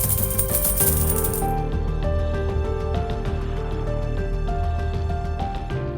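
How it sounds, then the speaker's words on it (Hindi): Metal coins jingle and clink steadily throughout, bright and close, with a dense rattling shimmer that thins slightly after the first second and a half. "खनक उठते हैं किस्सों के सिक्के"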